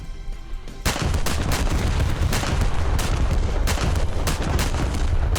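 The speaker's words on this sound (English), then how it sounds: "We'll give him a full broadside and then look for another target." Battleship USS Texas (BB-35) firing a full broadside in the naval game War Thunder, with dense, continuous booming gunfire that erupts after a quieter opening and keeps rolling, loud and close.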